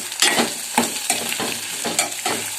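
Capsicum palya is stirred and fried in a pan over a low flame, a constant soft sizzle broken by about six scraping strokes of the spoon, close by and with no talking.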